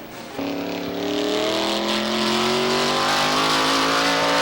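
A Chevrolet modified race car at full throttle through turns 1 and 2 at Star Speedway during a 1990 NASCAR Modified qualifying lap, its engine snapping in loud and rising in pitch as it accelerates, close and sustained.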